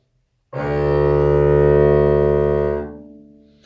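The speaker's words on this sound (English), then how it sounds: "when we play an open D string, it's going to sound like this" A single bowed open D string note rings steadily for about two seconds, full and resonant, then fades away.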